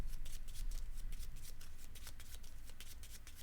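Keyforge tabletop game cards are shuffled in quick, soft, repeated riffles for a few seconds, close and without speech.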